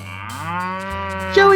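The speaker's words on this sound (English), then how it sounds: "thank you for your daily moo" A single cow moo, long and loud with a rich harmonic drone that swells and rises in pitch at the end, heard alone and close with no talking.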